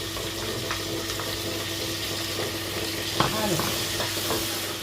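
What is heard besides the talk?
garlic and onion frying in a pan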